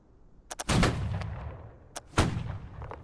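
A line of practice shooters fires on command, giving a few sharp separate cracks and then a heavy ragged volley, with a single shot and a second loud volley following, all booming in open air.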